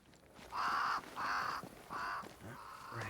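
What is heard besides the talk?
crows cawing in video game Banishers: Ghosts of New Eden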